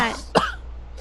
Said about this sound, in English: Aladdin reawakes and coughs the water out of his lungs